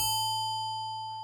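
A single synthesized bell note from the Vital synthesizer rings out with a bright metallic tone and a steady, slowly fading sustain, heard alone.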